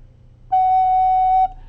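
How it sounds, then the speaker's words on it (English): A single sustained F sharp on a soprano recorder, played cleanly and steadily for about one second, alone against a faint background hum. "It's an F sharp. You have to press hard and blow light."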